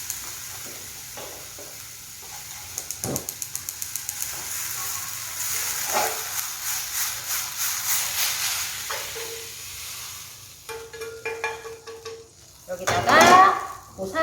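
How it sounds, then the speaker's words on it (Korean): Meat stir-fries in a hot pan for bibimbap, with steady sizzling, hissing and scraping stirs, a burst of rapid clicks early on and a louder surge of frying near the end. "고기 볶아주고"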